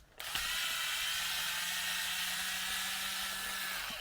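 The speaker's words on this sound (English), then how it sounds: "let's get a drill screwdriver and take it apart" A drill screwdriver runs at a steady, continuous whir for several seconds while being used to take apart a small device, heard fairly faintly against a hissy background with no talking.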